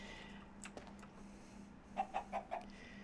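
A chicken in the video game Minecraft gives a quick run of four clucks near the end, preceded by a few faint clicks and a low steady background hum, with no talking.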